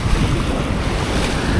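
Heavy surf breaking steadily on a beach during a mullet run, a dense continuous wash of crashing waves mixed with wind buffeting the microphone, loud and close with no voices.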